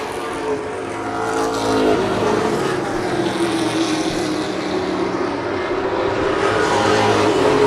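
Pro stock race cars roar around a short oval track in a continuous loud engine drone. The pitch rises and falls slightly as the pack passes, and no one speaks.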